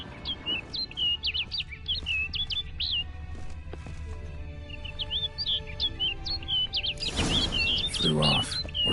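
A bird in a video game chirps in quick, bright, repeated bursts, close and clear, with a stretch of other in-game sound and a voice near the end.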